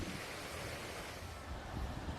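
Wind-driven waves from Typhoon Hinnamnor crash against seaside rocks in a dense, continuous roar of surf and gusting wind.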